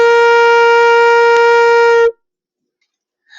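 A flute sounds a single sustained B flat, steady and clear for about two seconds, then stops abruptly into near silence.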